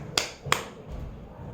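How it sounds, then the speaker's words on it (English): Two sharp hand claps land close together on a single beat of a rhythm exercise, crisp and near, followed by a brief quiet rustle. "So we're doing 2 claps on 1 beat"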